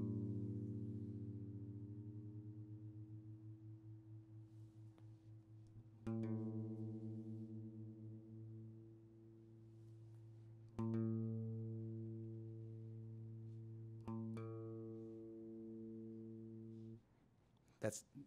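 Guitar A string tuned live against the low E string at the fifth fret: four paired plucks ring out, their beating wobble slowing as the pitches converge, quiet and close, alone without talking.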